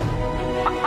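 A rooster gives a short, close, loud burst of throaty clucks, two sharper calls standing out near the end.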